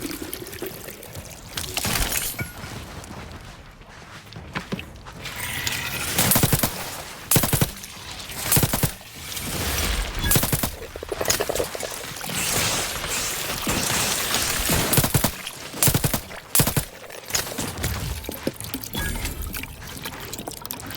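Gunfire in The Outer Worlds sounds as irregular bursts of sharp shots over a busy, splashing, noisy game soundscape, some volleys close and loud, others in quick clusters.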